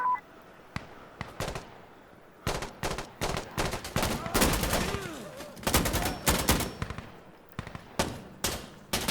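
Gunfire from the shooter game Insurgency: Sandstorm played in VR: a rapid, irregular string of loud, sharp shots and bursts, some clustered into fast volleys, with brief gaps between them.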